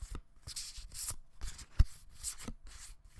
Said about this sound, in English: just a little card shuffling maybe